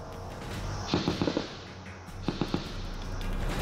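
Gunfire during an encounter in Budgam, Jammu and Kashmir: two distant bursts of rapid shots, four or five cracks each about a second apart, echoing over a constant low outdoor rumble.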